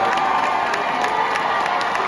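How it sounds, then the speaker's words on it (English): A crowd at a political rally cheers and shouts, a dense, sustained wall of voices and whoops that stays loud and even from start to finish. "the way the crowds are cheering about what she said"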